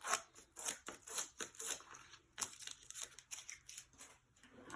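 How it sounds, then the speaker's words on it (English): Backing paper peeled off small foam craft pads, heard as a quick run of close, faint crinkly rips and snaps in an otherwise quiet room. "again stick on some foam pads to the back. peel off the backs."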